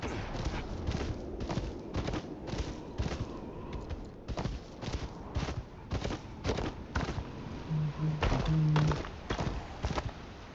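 Horse hooves clip-clopping in the video game Game of Thrones: Kingsroad, a steady galloping rhythm of dull thuds over soft ambient noise, with a brief low tone near the end.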